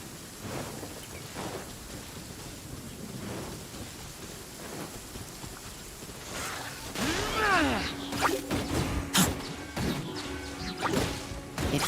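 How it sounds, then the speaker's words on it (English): Steady rain hisses through a Genshin Impact game scene, then cracking thunder and sharp crashing impacts break in over the downpour in the second half. "Oh, hujan."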